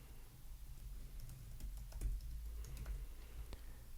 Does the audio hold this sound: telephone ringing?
no